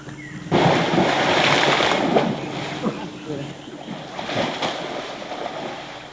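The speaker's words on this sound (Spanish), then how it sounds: "repentinamente el agua se agita con un violento chapoteo" Water in a jungle pond in Peru suddenly churns with a violent splash, a loud rushing surge that rises abruptly and then tumbles on with uneven sloshing, with faint wind noise.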